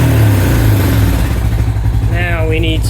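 A 2000 Honda Foreman 400 4x4 ATV engine runs at a loud, steady idle close by, while someone talks over it partway through.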